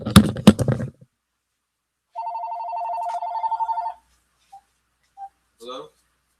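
A telephone rings once in a steady, close electronic trill lasting about two seconds, just after a voice stops, then a few faint short beeps and a brief bit of speech follow.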